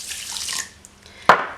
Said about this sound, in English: So add the flax seeds and the water